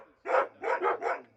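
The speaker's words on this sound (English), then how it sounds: "the dogs are making a racket" Several dogs bark loudly at a house during a police search, three to four harsh, close barks in quick succession with brief pauses between them.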